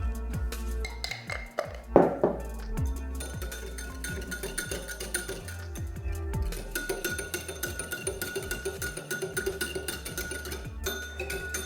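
A whisk beats butter and a pinch of salt in a bowl, giving rapid, rhythmic metallic clinks and taps against the sides, close and steady, with a louder clatter early on and no talking.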